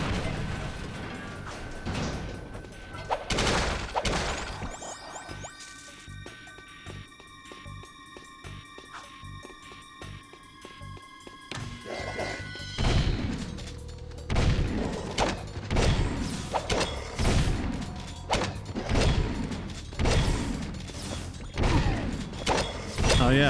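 Gunfire in the video game Jak II, including a shotgun: repeated loud blasts and thuds in irregular bursts over whirring mechanical game sounds, with a quieter stretch of steady tones in the middle.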